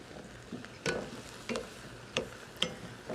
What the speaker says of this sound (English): Give it a good stir around.